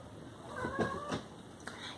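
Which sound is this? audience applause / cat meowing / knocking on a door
cat meowing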